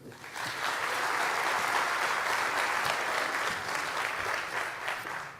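An audience at a national nursing forum breaks into steady, warm applause welcoming a speaker to the stage, many hands clapping continuously and fairly close, with no talk over it.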